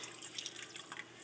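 Water poured into a simmering meatball sauce for a meatball sub, a soft, steady trickle with faint splashes that runs the whole moment at low volume, alone with no talking.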